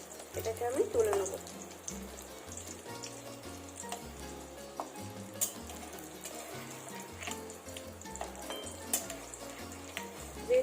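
Food frying in butter and egg over a low gas flame, a soft steady sizzle and faint bubbling at low level, with a few scrapes and clinks and quiet speech mixed in.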